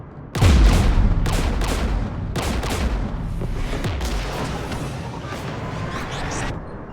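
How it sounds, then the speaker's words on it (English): Bursts of heavy anti-aircraft gunfire from Geth guns beside a jamming tower in the video game Mass Effect 3: a loud onset, then rapid repeated volleys and booms rolling on for several seconds. "The Geth installed anti-aircraft guns beside the jamming tower"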